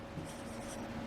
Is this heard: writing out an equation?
yes